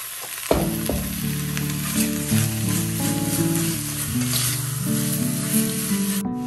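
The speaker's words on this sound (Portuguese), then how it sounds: "agora eu vou fritar a carne" Meat fries in a dry pan with no added fat while it is stirred for a protein salad, giving a steady sizzle throughout with tonal music playing over it.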